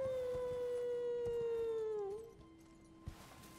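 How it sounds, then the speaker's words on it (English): A creature in the video game Elden Ring lets out a long, loud wavering howl that slowly falls in pitch and then fades, leaving quiet ambience and a soft thud. "He's just howling."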